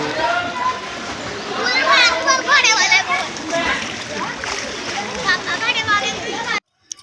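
Children splash and shout in the kids' section of a swimming pool, a busy wash of water noise and lively young voices throughout, with adult talk mixed in before an abrupt cutoff.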